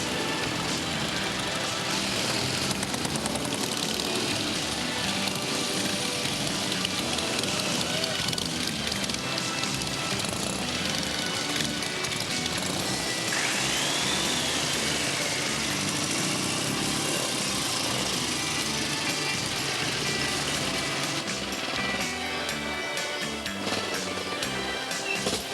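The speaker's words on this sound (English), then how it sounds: "That's the Norton Dominator. That's their 500 twin." A Norton Dominator 500 twin motorcycle engine runs steadily for the whole stretch, a dense, continuous mechanical roar heard alongside wind and other outdoor noise, with no break in its drone.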